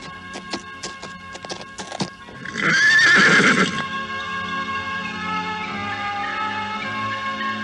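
Horse being ridden away from a palace, with a string of sharp hoof clops followed by a loud whinny and a long, low ambient tail. No voices.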